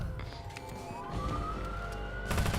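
A police car siren wails in the video game Watch Dogs, a rising electronic tone sweeping steadily over a dense rumble of traffic and game noise, loud and close throughout.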